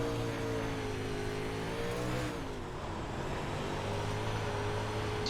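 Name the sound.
race car engine in a racing video game at Weedsport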